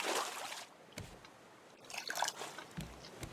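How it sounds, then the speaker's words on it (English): Water from a Raft game water purifier trickles down glass into a collection container, a soft, faint dribbling with a few small drips, quiet and alone. "the water trickles down the glass into the collection container there"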